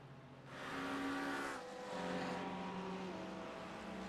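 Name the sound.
race cars driving in a sim racing video game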